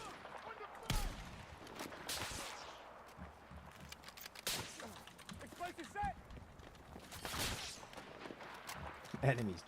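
Gunfire in Battlefield 6 plays as scattered bursts and single shots over a rumbling battlefield. A voice talks over the game throughout.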